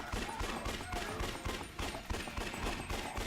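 Submachine gun fire in the video game Yakuza Dead Souls: rapid bursts of gunshots repeat in a quick, uneven rhythm, fairly quiet, with faint game noise around them.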